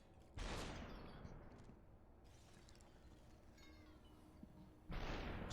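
Gunshots in the video game SUPERHOT, two loud blasts with short bursts of noise, one near the start and one near the end, with a quieter rumbling stretch between.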